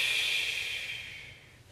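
A single long exhale during a Pilates exercise, a close airy hiss that fades gradually over under two seconds.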